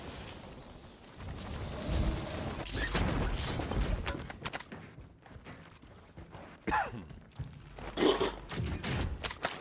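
Gunfire in Call of Duty: Warzone cracks out in scattered bursts over a busy game mix of clanks and crunches, with sharper shots near the end.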